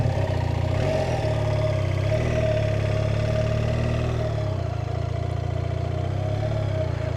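A motorcycle rides laps across soft salt plains at sunset, its engine humming steadily and fairly close throughout, with no talk over it.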